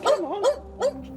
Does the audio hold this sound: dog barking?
yes